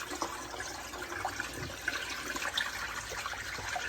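Water running and splashing while something is rinsed out in a sink, a soft, continuous trickle with small sloshes throughout.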